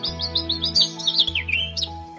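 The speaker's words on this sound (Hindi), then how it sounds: "पक्षियों की चहचहाहट पूरे माहौल को शांत और सुंदर बना रही थी" Birds chirp brightly on a sunny village morning, a quick series of high, repeated tweets over a low, steady hum, clear and fairly close.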